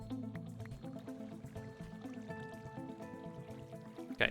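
Water splashing and dripping in the Minecraft Create Together modpack, a steady wet, bubbling flow that runs through the whole stretch over faint game tones, ending in a brief louder splash.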